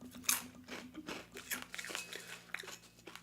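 Crunchy puffed Kellogg's Special K cereal being chewed up close, a quiet run of irregular crisp crunches and bites over about three seconds, with no talking.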